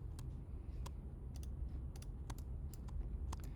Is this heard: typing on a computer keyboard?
yes